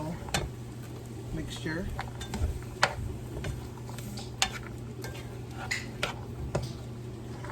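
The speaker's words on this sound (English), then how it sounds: "stir those around. Get those coated in the butter and olive oil" Vegetables tossed in butter and olive oil during Thanksgiving cooking, soft scraping and occasional utensil clicks against the pan, fairly quiet under a person's talk.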